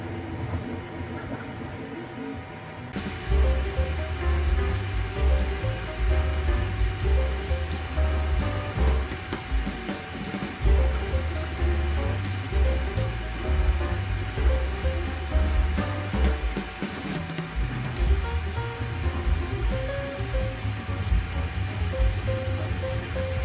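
A Creality K1 Max 3D printer, fully enclosed, runs with a steady whirring hum and fan noise, sustained and moderately loud with constant fluctuating motor tones and no talking.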